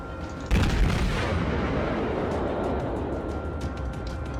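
Heavy warship guns fire in World of Warships ranked battle: one loud booming salvo at the start, then a long rumbling roar that slowly fades, with lighter cracks and rumbles continuing behind.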